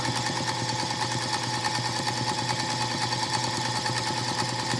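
A sewing machine stitches steadily at a moderate, even pace, a rapid mechanical whir and clack repeating without pause, close and clear with no voices.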